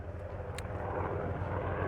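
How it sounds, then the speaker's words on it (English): Steady low droning rotor and engine noise from a helicopter passing overhead near a tennis court, continuous and fairly loud throughout with no talk. "Helicopters, love it."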